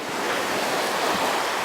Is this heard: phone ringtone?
no